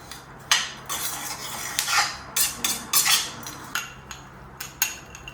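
Chopped dates, about fifteen, stirred with warm spices in a pan for an Indian festive recipe: a run of sharp metallic clinks and scrapes of a utensil against the pan, irregular and close, with no talking.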